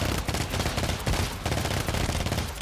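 Rapid continuous automatic gunfire in the co-op shooter GTFO, dense and loud, with a brief dip partway through before the firing resumes without pause.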